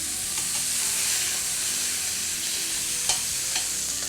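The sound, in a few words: steaks searing in a stainless steel pan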